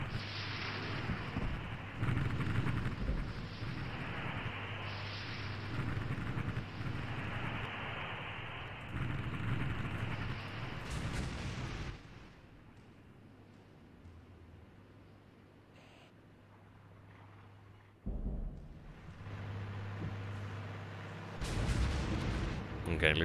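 Artillery fire in the tank battle game Armoured Brigade, US against Soviet armour, rumbles in repeated heavy booms over a sustained low roar, fading to a quieter lull before more blasts return near the end.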